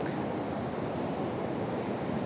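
Steady broadband rush of water and wind on a riverbank at Île Verte, loud and constant throughout with no voices.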